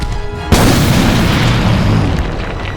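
A grenade goes off indoors with a sudden loud boom. A dense, roaring blast follows and fills the room, then slowly fades over a couple of seconds.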